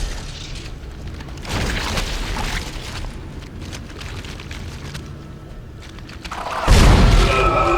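Booming energy-weapon blasts from a contact beam in Dead Space, with sustained rumbling bursts and a loud heavy discharge near the end, with no talking over it.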